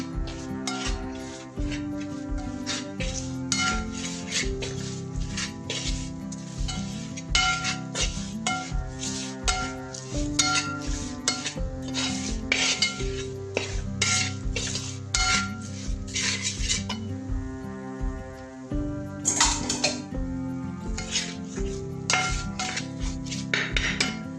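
A metal spoon clinks and scrapes around a pan, stirring spices on low heat for tuna pickle, in steady, rhythmic strokes, close and continuous, with no one speaking.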